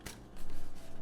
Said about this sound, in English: Push and fold it a little harder.